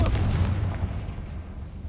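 Deep booming blast from the Confringo fire spell in Hogwarts Legacy, a heavy low explosion that fades into a rumbling tail over about two seconds.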